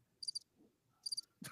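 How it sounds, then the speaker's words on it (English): Two short bursts of cricket chirping used as a comic sound effect after a joke, each a quick cluster of bright pulses, followed by a louder broadband noise at the end. "you got the crickets"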